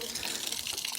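Water gushes steadily from an outdoor washout tap, a close, continuous splashing rush with no pauses over the brief moment.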